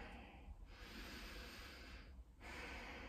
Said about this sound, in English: Remember Ujjayi breath, so constrict your throat as you breathe.